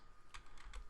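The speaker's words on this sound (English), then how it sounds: "I'll type something like" Three quick, faint keystrokes on a computer keyboard, evenly spaced clicks in a quiet room.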